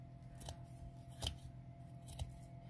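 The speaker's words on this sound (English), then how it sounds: "I'm just going around and cutting the excess burlap" Scissors snip through excess burlap around a handmade wedding bouquet: three quick, quiet cuts spaced about a second apart, close up over a faint steady hum.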